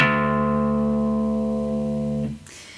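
A guitar's low E string, tuned down to drop D, rings out as one sustained low note that slowly decays for about two seconds, then is damped. The string is close and there is no talking.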